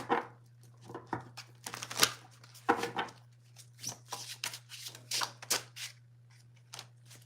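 Tarot cards shuffle in soft, papery riffles and taps, close and fairly quiet, coming in irregular bursts with short pauses between, over a steady low electrical hum.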